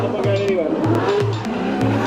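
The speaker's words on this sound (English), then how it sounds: "there you go with Colette Davis finishing off a big smoky rolling burnout" A 600 hp sequential C6 Corvette doing a smoky rolling burnout at a drift event in Ireland, its engine bouncing rhythmically off the limiter with tire roar underneath while a person talks over it.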